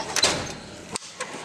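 A metal toolbox drawer slides open in a fabrication shop, a short rolling scrape early on followed by a couple of light clicks and knocks, close and fairly loud.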